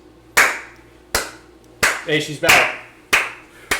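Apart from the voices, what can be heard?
hand clapping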